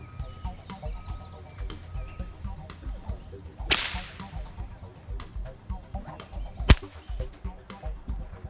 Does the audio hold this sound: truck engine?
no